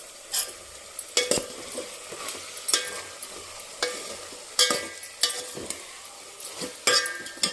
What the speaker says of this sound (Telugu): పచ్చిశనగపప్పు, మినపప్పు వేసానండి. దోరగా వేయించుకోవాలి. ఇవి వేగుతూ ఉంటాయండి.